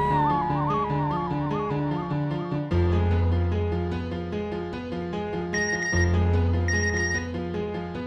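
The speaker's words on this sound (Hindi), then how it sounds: "अरे मामा का मैसेज।" A phone sounds a loud, melodic electronic notification tone: bright synthetic notes repeat in short phrases over a steady low backing for several seconds, close and alone.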